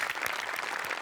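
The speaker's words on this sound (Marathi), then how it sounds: "टाळ्या वाजल्याच पाहिजे" Audience applause after a stage performance at a Marathi stage show: dense, steady clapping from a large crowd, loud and continuous for about a second with no talk over it.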